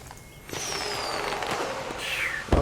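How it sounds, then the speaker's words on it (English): A bottle rocket firework launched in the video game Guild Wars: a whooshing whistle takes off and carries on loudly, then a second high descending whistle follows before a sharp pop near the end. "so here's a bottle rocket"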